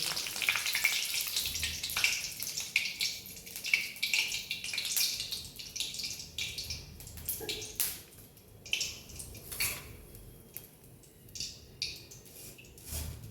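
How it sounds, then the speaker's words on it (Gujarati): Mint leaves fry in hot oil, a close, bright sizzling hiss that is strongest at first, then thins into scattered pops and crackles as the frying settles. "તો મિત્રો આપણો ફુદીનો ફ્રાય થઈ ગયો છે।"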